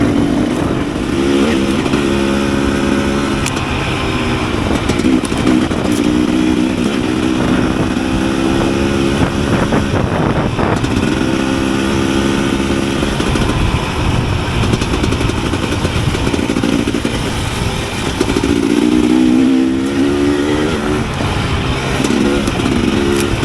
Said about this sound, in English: I love this bike. It handles so good.